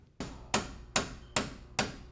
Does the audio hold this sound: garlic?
no